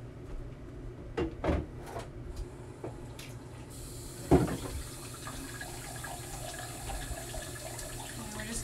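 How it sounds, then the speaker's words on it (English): Hot water running from a tap into a container during soapmaking, a quiet steady trickle with a few soft knocks and clunks of handling mixed in. "And we're just gonna fill that up with some hot water"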